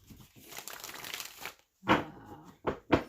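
Tarot cards are shuffled and riffled by hand in close, crisp rustling bursts, a longer stretch followed by three short sharp flurries separated by brief pauses.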